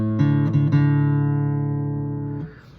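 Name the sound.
guitar D string being plucked while tuning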